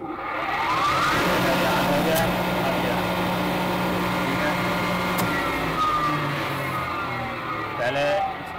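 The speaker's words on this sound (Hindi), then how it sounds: "पहले स्टार पे ऑन होती है मोटर, फिर उसके बाद में डेल्टा पे आप फुल पावर पे आ जाती है" An electric motor starts through a star-delta starter panel with a timer fault, giving a steady loud whirring drone with a hum that shifts partway through and a few brief clicks.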